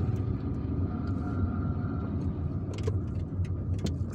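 A car driving through the streets of Algiers between neighborhoods, its engine and road noise forming a steady continuous hum from inside the vehicle, with a few light rattles and clicks near the end.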